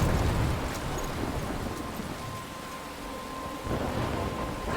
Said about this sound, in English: Storm.